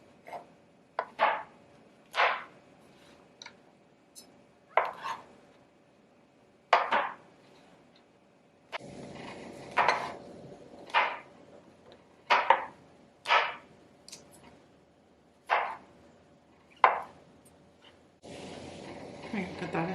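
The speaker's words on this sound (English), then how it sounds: "So we're just going to chop our mushrooms." A knife chops mushrooms on a cutting board in a home kitchen, giving a steady run of sharp, close, evenly spaced thuds.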